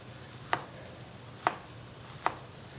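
A knife chops through an onion on a cutting board in three separate, crisp strikes spaced about a second apart, close and fairly quiet, with no talk.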